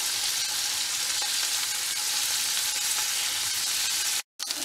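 Asparagus sizzles and fries steadily in a pan on a stove inside a camper during snowy weather, a constant close hiss that cuts out briefly near the end.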